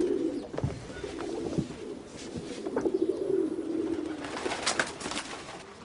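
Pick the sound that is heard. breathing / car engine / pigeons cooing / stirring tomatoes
pigeons cooing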